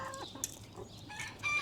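Chickens of a docile, friendly breed cluck softly in a breeder pen, short overlapping calls with a few brighter squawks close by, over a steady low farmyard hum.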